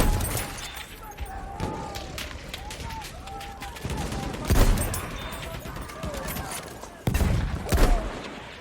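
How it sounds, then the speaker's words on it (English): Battlefield 1 gunfire crackles in rapid bursts and sustained automatic fire, with louder heavy shots around the middle and near the end, mixed with game sounds while a player talks over it. "You can just keep shooting me and I can't shoot back."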